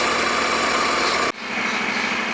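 A Honda NC750 motorcycle engine runs at a steady, close idle with a constant buzzing drone, briefly dipping for a moment before settling back into its even idle.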